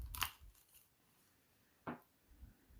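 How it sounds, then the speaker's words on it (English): Anker Q35 headphones are folded with two quick, quiet plastic clicks and snaps, one near the start and one a couple of seconds later, in an otherwise hushed room. "they articulate a small amount here, and they fold. They both fold in."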